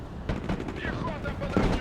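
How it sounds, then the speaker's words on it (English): Mortar fire in Broken Arrow: several quick booming thumps and crackling blasts land close together in a short burst, mixed with battlefield noise and a voice speaking underneath. "They're mortars. Indirect fire."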